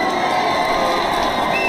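Dense crowd cheering in a continuous, even roar with shrill voices over a broad wash of noise, loud and sustained throughout.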